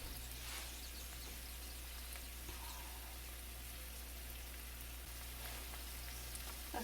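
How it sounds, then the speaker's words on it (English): Onions and bell pepper sauteing in a stick of melted butter, a faint, steady sizzle with soft crackles running throughout, alone with no talk. "I'm sauteing my onions and bell pepper"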